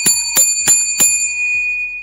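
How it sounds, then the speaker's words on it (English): A bell is rung to celebrate a sack in a football game: four sharp, bright strikes in a steady rhythm, each ringing out briefly, followed by a lingering high tone and a fainter fifth tap. "Let's ring the bell for the red sleeves."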